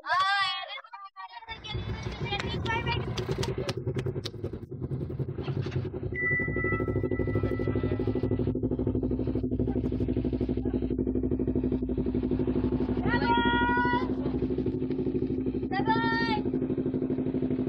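A motorcycle engine starts up and settles into a steady, close idle that runs for the rest of the clip. Brief voices and chirpy calls come through above the engine.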